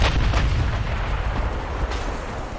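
Naval artillery from battleship guns in the naval warfare game Ultimate Admiral Dreadnoughts, with loud heavy booming salvos and rumbling reports that roll over one another, one sharp blast near the start and another later on.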